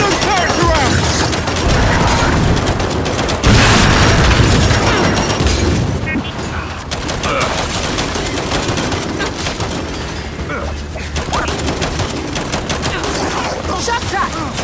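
Turret gunfire and explosions in the shooter game Gears of War 5, with loud continuous bursts of automatic fire and heavy booms filling the scene, booming strongest early and then settling into rapid sustained shooting.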